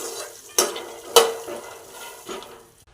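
Makhana lotus seeds roast in butter in a kadai, a soft sizzle broken by a few sharp metallic spoon taps against the pan, quiet and close.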